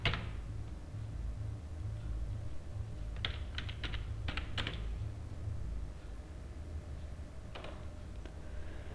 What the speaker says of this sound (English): here I have to type your current score.